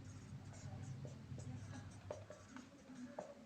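Marker or chalk writing on a board during a maths lesson, quiet scratchy strokes and taps in an irregular rhythm over a low room hum, with faint speech in the background.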